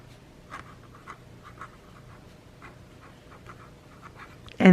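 Medium-nib Opus fountain pen writing by hand on paper, giving soft, close scratchy strokes in an irregular rhythm, faint and steady, ending in a sudden louder bump.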